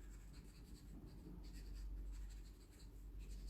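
Felt-tip marker drawing small stars on a surface, with faint, close scratchy strokes in quick short bursts against a quiet background.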